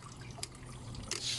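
A leaking pond drain valve that will not close properly drips steadily, faint small watery ticks and trickles over a low background hum.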